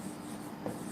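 Marker or chalk scratching across a board in short strokes while a teacher writes notes during a lesson, a faint continuous rub.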